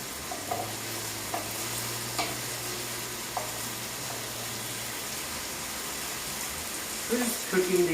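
Chicken and broccoli stir-fry in a pan, a steady sizzle and frying hiss throughout with occasional scrapes of stirring, plus a low hum and some background clatter near the end.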